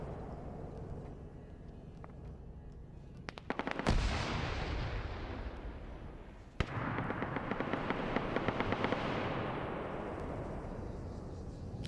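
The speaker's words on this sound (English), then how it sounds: "I hear the sniper going off" Gunfire in a military battle in Arma 3, a rapid burst of cracking shots followed by a loud single sharp report, then a continuous crackle of distant automatic fire and rumbling echoes.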